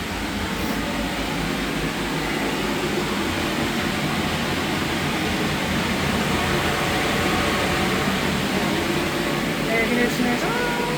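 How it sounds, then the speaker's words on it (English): An air conditioner runs indoors alongside an air scrubber, giving a steady, even broadband whoosh and low hum for the whole stretch, with faint murmuring voices underneath. "Air conditioner's on."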